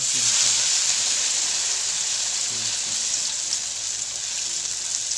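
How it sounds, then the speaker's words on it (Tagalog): A vegetable omelette of chayote, carrots and malunggay leaves frying in hot cooking oil over high heat gives a steady, loud, close sizzle, with faint speech in the background. "Piprituhin na natin siya."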